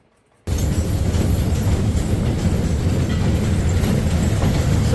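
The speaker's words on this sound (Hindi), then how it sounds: "सबको पीछे छोड़ते हुए जा रही है ट्रेन" A narrow gauge train runs along its track, heard from inside the carriage. After a brief silence, a loud, constant rumble with rhythmic wheel clatter starts and holds steady to the end.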